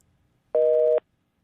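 A telephone busy signal over a poor radio phone connection: one clear half-second steady tone burst after silence, with the next beep just starting at the end.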